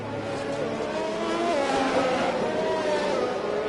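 Race cars in a five-lap sprint race roar past in a continuous, loud engine drone with shifting pitch as they accelerate, steady throughout.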